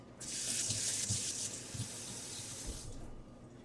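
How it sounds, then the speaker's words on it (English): A tap runs steadily into a sink for about three seconds while gloved hands are rinsed during yarn dyeing with acid dyes, a bright splashing rush that starts and stops cleanly. "I will wash my hands with the gloves on and then dry them"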